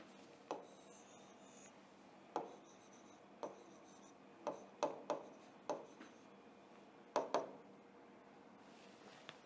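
Chalk or marker tapping and scratching on a board in a quiet classroom, with about ten separate short strokes at an uneven pace, close and clear, with no talking.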